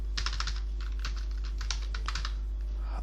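Rapid keystrokes on a computer keyboard while VBA code is entered in Excel, coming in uneven bursts of clicks close to the mic over a steady low hum, with no talking.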